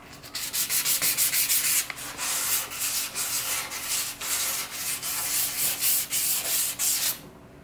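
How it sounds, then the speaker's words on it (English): Hand sanding of a repaired surfboard tail with 800 grit sandpaper, a close, steady run of raspy back-and-forth strokes with brief pauses between passes, ending abruptly. "don't think I want to sand too much further down to try and level it out"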